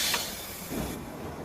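A loud, broad burst of steam hissing from a steam engine, with a low rumble underneath, rushes steadily for about a second and then cuts off abruptly.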